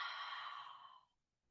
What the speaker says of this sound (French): Deux souffles.